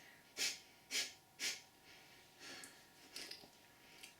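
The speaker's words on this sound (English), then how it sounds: "So close one nostril and exhale 3 times." Three sharp, forceful exhales through one nostril in a steady rhythm, close and breathy, followed by a few softer, gentler breaths, with no talk.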